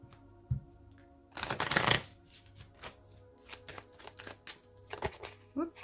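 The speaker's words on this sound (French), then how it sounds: "On va commencer par une coupe avec le Lenormand." A deck of Lenormand oracle cards is cut and shuffled at close range, with a dense burst of riffling followed by scattered crisp card snaps and taps.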